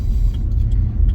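A truck rumbles close by with a steady, loud low engine drone that does not let up through the short moment.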